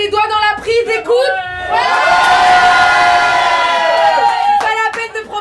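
Improv theatre audience at a bar show, including children on stage, shouting and cheering loudly in one sustained roar lasting a few seconds, bracketed by brief speech before and after.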